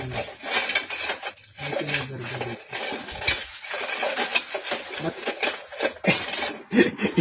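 A metal fork clinking and scraping in a cooking pot while checking simmering ubar, irregular light clinks and rubs close by, with a voice talking over them.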